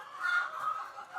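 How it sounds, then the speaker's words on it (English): Laying hens on a Nigerian resort farm kept on deep litter cluck softly in a steady, murmuring chorus, close and continuous, with no talking over them. "So these are already laying birds, as you can see."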